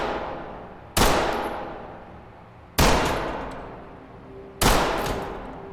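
Three sharp, loud pistol shots ring out in the police tactical shooter Ready or Not, evenly spaced about two seconds apart, each with a long echoing decay.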